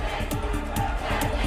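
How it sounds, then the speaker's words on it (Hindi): Hundreds of college students gathered in a loud protest, a dense crowd shouting slogans together with rhythmic pulses of chanting, sustained and close. "हंगामा बरपा है, नारेबाजी हो रही है,"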